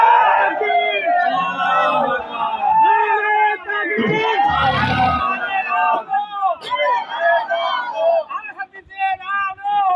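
At an Islamic religious gathering, a crowd chants the takbir in a short, loud collective roar midway through, with a preacher speaking before and after it.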